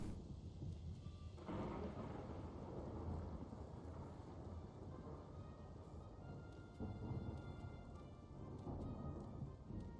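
Thunderstorm in the video game Morrowind, with a continuous roar of heavy rain and rolling rumbles of thunder that swell around the start and again later, loud and enveloping with no speech.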